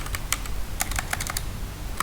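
Rapid keystrokes clatter on a computer keyboard in a short, fairly steady burst of close, crisp clicks, with no one talking.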